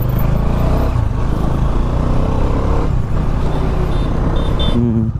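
A Dominar 400 motorcycle on a test ride after a sensor repair, its engine droning loud and steady throughout with dense low rumble and wind, the pitch shifting slightly near the end.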